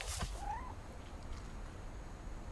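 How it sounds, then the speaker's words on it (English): A cat meowing outside in What Remains of Edith Finch, one short rising meow near the start, then a quiet outdoor ambience with no talking. "We have a cat outside."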